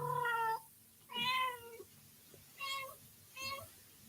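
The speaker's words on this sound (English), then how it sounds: "See this cat over here trying to." A cat meows repeatedly, four distinct meows spaced roughly a second apart, fairly close and clear against a quiet room with low background noise.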